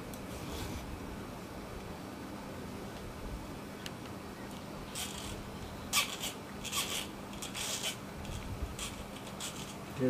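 A file scrapes across a soft steel blade for a wallet knife, faint rasping strokes that turn into a cluster of sharper, louder passes in the latter half over quiet background hum.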